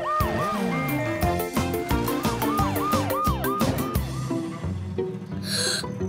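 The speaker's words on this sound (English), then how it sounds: "Ash, Scout, sirens on!" A wailing cartoon bus siren rises and falls in quick repeated sweeps over busy, bouncy music, loud and continuous.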